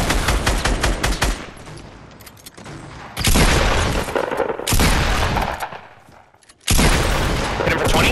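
Bursts of rapid gunfire from a Fortnite match rattle in three loud clusters separated by short quieter gaps, close and dense, with no voices over the shooting.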